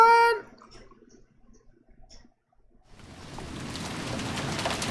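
Steady rain rises and then holds in a visual novel scene after a short burst at the start and a near-silent pause, with a faint low rumble of thunder underneath.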